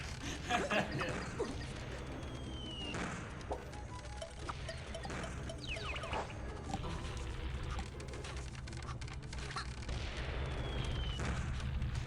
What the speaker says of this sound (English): the ship is shooting bombs at me